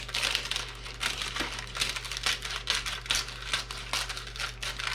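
Crinkly, rustling cuts through meatball ingredients, a steady run of soft scratchy crackles close by, with a constant low hum underneath.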